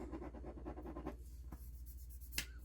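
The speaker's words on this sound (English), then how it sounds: "Let's see if this pen will write" A pen writing on vellum paper makes soft, steady scratchy strokes, close and quiet, that fade after about a second into near silence broken by a few faint ticks.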